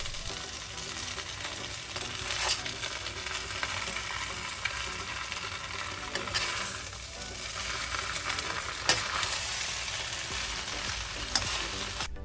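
Beef chow fun rice noodles tossed in a hot pan, a dense continuous sizzle with occasional scraping and clattering accents, close and steady throughout with no talking.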